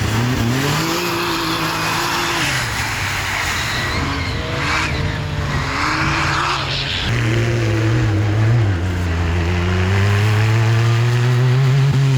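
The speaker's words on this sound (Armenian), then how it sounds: "Արշավորդները չափազանց ագրեսիվ են վարում իրենց ամենագնացները, ինչը ստիպում է դրանց որոշ հատվածներ անցնել դրիֆտով։" Off-road rally buggies in a Trophy-Sprint race, driven hard and drifting through corners: loud, close engines rev and rise in pitch, with tyres scrabbling and skidding on loose ground. No one speaks.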